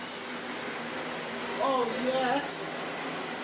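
A Dyson Ball Animal 2 upright vacuum cleaner runs with a steady, loud whining hum and high-pitched motor whistle, while someone briefly speaks over it.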